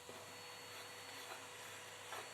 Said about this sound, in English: once again hoover off the worst of the dust.